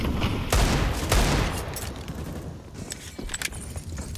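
Gunfire from a CS:GO match on the Nuke map, in a DreamHack Open esports game: two sharp bursts of shots up close in quick succession, followed by scattered lighter clicks and clatter over steady background noise.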